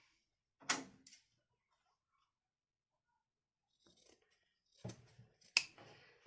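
Scissors snip through leftover fabric scraps in a few short, close cuts, with a long quiet pause between the first cut and a final cluster of crisp snips.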